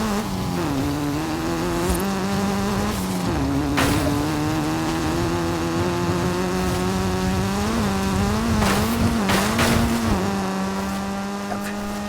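A Hyundai Veloster racing in a video game, its engine holding a steady loud drone with rising pitch shifts and brief tire scrapes, continuous throughout.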